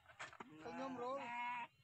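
A goat bleats in a long wavering cry near a motorcycle-mounted transport cage meant to carry three goats, preceded by a couple of short bleats or knocks, fairly quiet overall.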